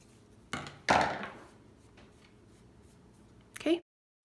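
Scissors cut the bottom yarn ends of a wood bead garland to even them: two crisp snips close together, then a pause and a final louder snip, close by with no talking.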